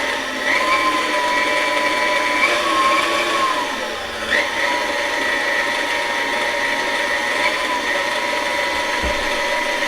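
Electric stand mixer working brioche dough with flour, a steady mechanical whir with a faint rhythmic clicking, continuous and close for the whole stretch.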